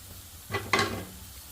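Two chopped carrots being stirred with salt in a frying pan: two brief scraping, sizzling stirs close up, with a low hiss continuing between them and no talking.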